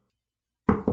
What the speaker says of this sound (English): there's a knock on the door